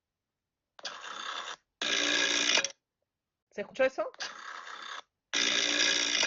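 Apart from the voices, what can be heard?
old rotary dial telephone ringing, played from a phone app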